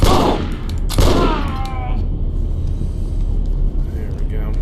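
Gunfire in the video game Condemned: Criminal Origins in subway tunnels, two sharp, loud shots about a second apart, each trailing into a booming echo, over a low rumbling ambience.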